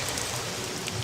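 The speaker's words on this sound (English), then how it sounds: "Rainy day in Argos." Steady rain falls over a seaside city of Argos in the game Caesar IV, a dense, even hiss of drops with no talk, constant and moderately loud throughout.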